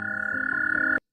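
A frog croaks in one steady, loud, sustained call lasting about a second, with a strong buzzing tone, then stops abruptly into silence.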